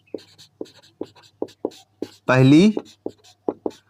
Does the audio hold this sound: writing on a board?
yes